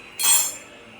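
A single bright metallic clink of a spoon against something during a Telugu home experiment checking heated items one by one, a short ringing tap that fades quickly over faint background.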